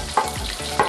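Seasoned chicken cutlet cooking in a hot pan gives a close, steady sizzle, with two brief sharper crackles or scrapes standing out over the frying.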